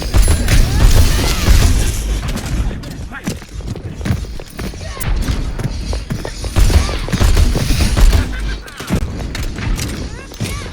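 Bombs exploding in a video game, dense repeated booms and bursts piling up over several seconds, loud and chaotic, mixed with game noise and voices.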